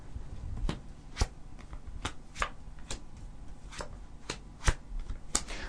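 Tarot cards being shuffled and drawn during a live psychic reading, heard as a series of sharp, crisp card snaps and flicks at irregular intervals over a quiet background, close and fairly faint.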